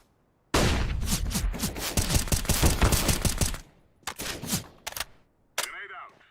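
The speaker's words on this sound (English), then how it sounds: "I'm throwing a flashbang" A flashbang grenade bursts in a video game shooter, a loud sustained crackling blast of rapid sharp pops filling the first few seconds, followed by a few shorter bangs and a brief high ringing tail.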